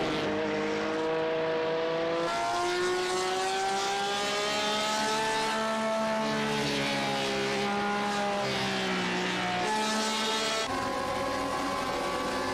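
A race car in a Suzuka sim racing game slows along pit road, its engine note sliding down through gear changes in a loud, close whine that drops and levels off, with no talking.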